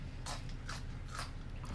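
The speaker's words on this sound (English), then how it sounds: "if you hear just random silences, the crunching of chips, that's what it is" Tortilla chips crunched with a cheesy taco dip: three or four sharp, close bites in a steady rhythm over a low background hum, with no talking.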